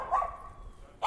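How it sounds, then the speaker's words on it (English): A labradoodle barks in two short bursts, a near yap at the start and another at the end, with a quieter stretch between. "there's a dog coming at me"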